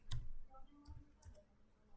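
A computer keyboard clicks in a few quick, sharp keystrokes, close and fairly faint, separated by short pauses.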